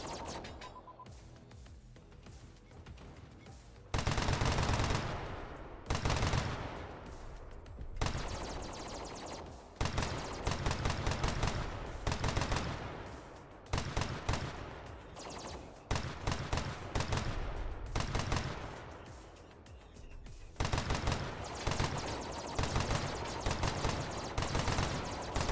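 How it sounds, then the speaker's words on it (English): Sustained covering gunfire in the video game Cornucopias, dense, loud automatic bursts repeating for over twenty seconds with brief pauses between volleys, close and with no talking. "Covering fire."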